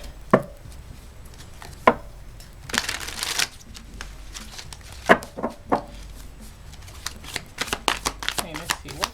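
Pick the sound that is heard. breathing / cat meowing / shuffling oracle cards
shuffling oracle cards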